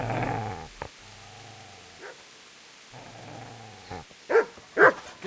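Dog in Kingdom Come: Deliverance growling low and then barking in a few sharp bursts, mid-distance and loud near the end, with quiet gaps between.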